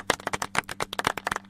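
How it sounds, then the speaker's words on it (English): A rapid round of applause from a small group, with sharp, close handclaps pattering in an uneven rhythm throughout, no voices over it. "That's another round of applause."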